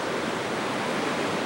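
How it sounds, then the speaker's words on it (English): Water rushing steadily near a natural barrier on a Puerto Rico trip, a dense, continuous wash like surf or a waterfall, close and loud with no talk over it. "There comes some water."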